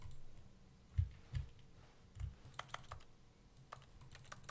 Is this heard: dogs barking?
no